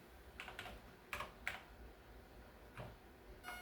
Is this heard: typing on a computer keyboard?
yes